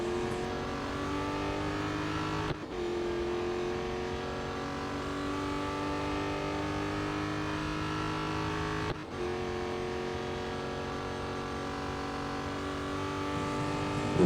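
Race car engine in a racing video game holds a steady, sustained drone, loud and close, with a brief dip at two moments, and no voices over it.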